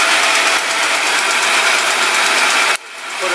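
A Delta Rockwell 11x26 variable speed metal lathe running with the threading lever engaged, giving a steady, loud mechanical whir and hiss that holds even, then drops abruptly near the end.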